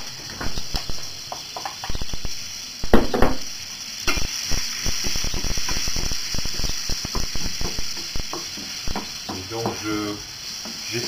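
Onions sizzle in a frying pan with curry and cumin while being stirred constantly for a tofu stir-fry. Steady, close frying hiss runs under repeated scraping and clattering of the utensil against the pan, with some speech mixed in.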